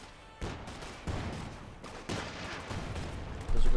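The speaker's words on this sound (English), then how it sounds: "Bazooka fire from the Rangers" Explosive bazooka fire from US Forces Rangers in Company of Heroes 2, a series of loud blasts and impacts at intervals amid continuous battlefield gunfire, with a heavier burst at the end.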